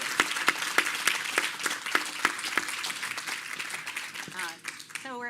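An audience at an in-person author event claps to welcome the author, steady and dense at first, then thinning out as the clapping ends.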